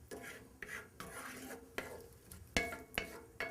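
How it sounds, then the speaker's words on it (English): Shallots are stirred in olive oil in a pan, soft scraping strokes with a sharp utensil knock against the pan every half second or so over a faint sizzle, close and quiet. "So just going to try to coat the shallots nicely in olive oil here."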